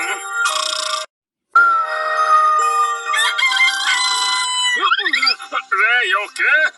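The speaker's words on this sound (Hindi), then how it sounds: "5 बज गए, बांग देने का समय हो गया से" A cartoon rooster crows at five in the morning in an animated Lego kids' episode, a loud, stretched, wavering call rising near the end, following a chiming ringtone-like jingle and character voices.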